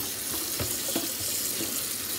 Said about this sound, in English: I put them into a strainer, or colander, however you can call it, and I rinsed them with cold water